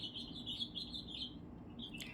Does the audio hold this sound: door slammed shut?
no